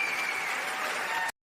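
A short burst of applause, apparently an added sound effect on a talk show: a smooth, even wash of clapping that stops dead after about a second, followed by silence.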